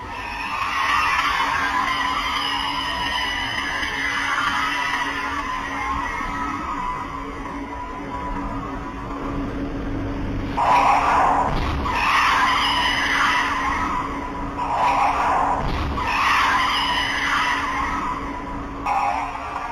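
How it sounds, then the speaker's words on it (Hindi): A speeding car skids and slams into the car ahead on a Malaysian road, with sustained tire noise and engine roar followed by a few sharp, loud bursts of impact. "तेज रफ्तार गाड़ी ने आगे चलती गाड़ी को टक्कर मारी"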